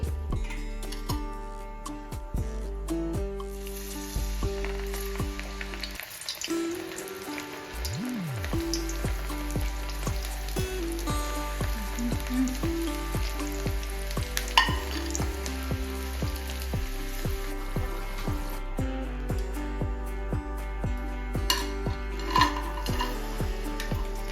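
Chakodi, a fried snack, cooks in hot oil to golden brown, giving a steady crackling sizzle with scattered pops and drips throughout, close and moderately loud, with no voices.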